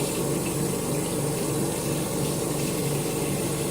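Steady running water from a tap wetting a makeup blending sponge at a sink, a continuous close, even rush with no talk.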